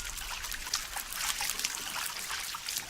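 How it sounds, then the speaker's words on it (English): Shower water runs steadily in the Green Hell jungle survival game, a continuous bright hiss of falling droplets and trickling, moderately quiet with no talk over it. "let's have another shower."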